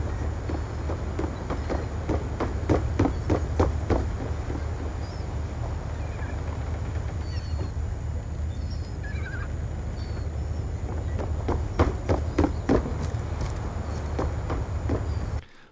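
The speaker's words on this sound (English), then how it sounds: "it also tells you what type of surface they're on by changing the actual sound of their footsteps to match what surface they're on" Enemy footsteps in Black Ops 2 with the Awareness perk, rapid clacking steps in bursts over a constant low rumbling background, moderately loud with no talking.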